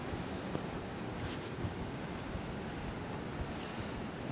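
Continuous ocean surf at Rockaway Beach in Queens, New York City, a steady low rumbling wash of waves mixed with wind noise on the microphone, fairly faint and even throughout.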